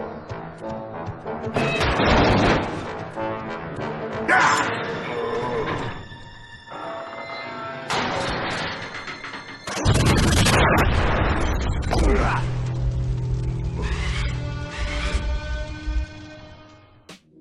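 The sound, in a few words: gas station explosion in Spider-Man 2 video game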